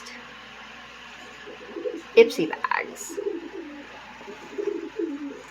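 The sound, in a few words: pigeon cooing in the background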